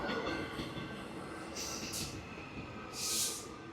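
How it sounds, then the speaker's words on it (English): A passing train rumbles as a steady, broad roar, with a few brief hissing or squealing bursts rising above it, heard alone without talk. "There goes my train"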